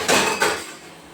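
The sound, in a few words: washing leaf plates and dishes in the sink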